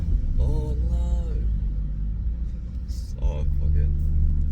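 Maserati GranTurismo S with its exhaust valves deleted, idling with a low, steady rumble during a tight parking manoeuvre, someone talking over the engine.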